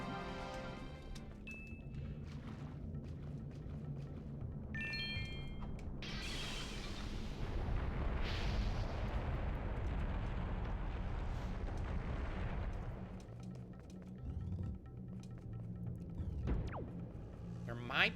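Bombs going off in The Legend of Zelda: Wind Waker, a few heavy blasts rumbling through the middle of the stretch, mixed with game music and effects, with a player talking over parts of it.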